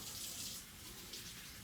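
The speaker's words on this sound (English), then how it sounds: "But you want to clean off your oysters real well" Oysters are rinsed clean of sand under a running kitchen tap, a steady close hiss of flowing water that swells loudest early on and continues without speech.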